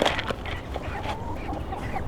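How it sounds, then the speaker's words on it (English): A chicken clucks in short, scattered calls amid low outdoor noise on a homestead, fairly faint and with no talk in between. "Don't pull the chicken's feathers."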